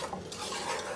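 Vegetables and peas, including cauliflower, being stirred in a single cooking pot, giving a close, continuous scraping and rustling with a faint sizzle underneath and no voices.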